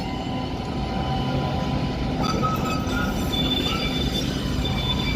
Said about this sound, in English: The train that just pulled in.